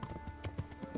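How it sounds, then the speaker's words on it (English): Horse hooves clip-clop on a road in the medieval game Kingdom Come: Deliverance, a quick run of soft, even thuds from a horse at walking pace, heard close with no voices over them. "now, you know, we're both riding horses"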